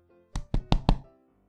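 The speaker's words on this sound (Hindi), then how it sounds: "तभी कोई डोर पर खटखटाता है।" Four firm knocks on a wooden door, evenly spaced and close by, then quiet.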